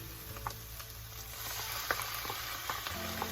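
Ropa vieja with tomato purée stirred in a pan, a steady broadband sizzle under soft intermittent scrapes and clicks of the spoon, moderately close with no talk.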